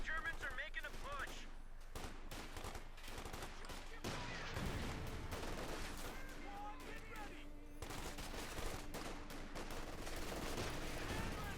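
Light machine gun fire in Company of Heroes 2, dense crackling bursts and overlapping gunfire from a World War II battle with distant booms, continuous throughout under a commentator's voice.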